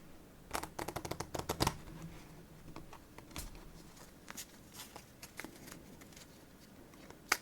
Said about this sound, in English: We're just gonna redeal again.